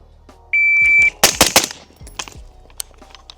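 Rifle shots fired while testing single-stage and two-stage triggers come as a quick cluster of sharp, loud cracks, preceded by a steady electronic timer beep and followed by a few fainter echoing reports.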